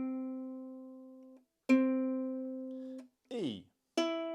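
A ukulele C string is plucked several times, each clear note ringing and decaying, with a short burst of voice between plucks.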